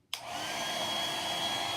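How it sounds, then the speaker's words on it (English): A hair dryer switches on and runs steadily, blowing air over a decorated glass block at close range, a loud even whooshing hum with no talking. "Let me blow dry that"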